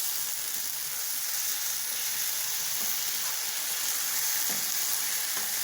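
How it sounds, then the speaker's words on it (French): Sorrel sautéing in a hot pan, a dense, steady hiss of frying that continues evenly throughout, with faint occasional stirring knocks and no voices. "L'oseille sautée."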